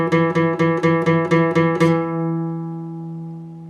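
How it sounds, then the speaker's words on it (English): An electric guitar repeatedly picks the 7th fret of the A string in a brisk, steady run of identical notes, then the final note rings and slowly decays. Close, with no voices. "place our pointer finger on the 7th fret of our A string"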